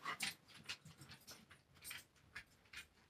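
A dog in a room nearby, making faint panting and small snuffling, clicking sounds in irregular bursts, quiet and close with no talk.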